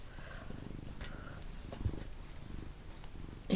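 A pet cat purrs close by in a steady low rumble during an indoor doll-knitting session, with soft handling noises and a faint voice passing over it.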